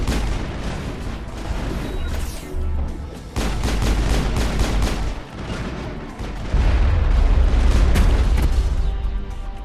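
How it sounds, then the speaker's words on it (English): Rocket launcher blasts and gunfire in a Mass Effect battle, a chaotic run of booming explosions and rapid shots layered over each other, loud and close, building in intensity toward the end with no talk. "With a rocket launcher that just killed Ashley and Caden"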